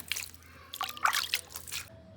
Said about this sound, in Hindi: थोड़ा थोड़ा पानी डाल देता हूँ भाई